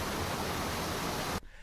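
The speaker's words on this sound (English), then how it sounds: "We also have pink noise," A steady, full-band soft hiss of pink noise plays evenly and loudly for over a second, then cuts off abruptly to near silence.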